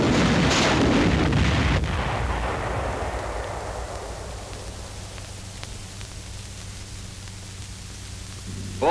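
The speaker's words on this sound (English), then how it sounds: "Here, demolition rockets were used to blast a gap in a 6 by 8 lightly reinforced concrete wall." Demolition rockets fired from an engineer armored vehicle at 100 feet blast a gap in a 6 by 8 lightly reinforced concrete wall; a heavy rumbling roar opens loudly, then slowly decays into a long, noisy, fading rumble.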